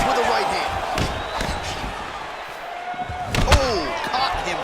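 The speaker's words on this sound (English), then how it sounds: "Oh, caught him flush with the head kick." Heavy impact thud of a flush head kick in the fighting game EA Sports UFC 4, a sharp slam landing among other strikes, under steady crowd noise and an announcer's voice.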